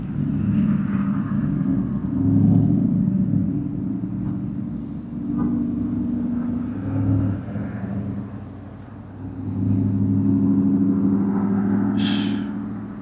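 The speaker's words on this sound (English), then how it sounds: "It's very nerve-wracking sitting in here with all these cars going by constantly." Cars drive past outside an abandoned building, heard from inside as low rumbling swells that rise and fade one after another, with a brief hiss near the end.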